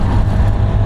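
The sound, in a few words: Honda Activa 125 scooter accelerating at full throttle while overtaking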